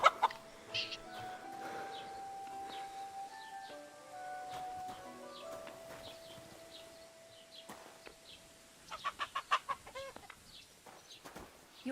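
Chickens cluck and squawk in the video game Kingdom Come: Deliverance II, scattered fowl calls over a low medieval outdoor ambience with a sustained musical tone, ending in a burst of rapid, frantic clucking.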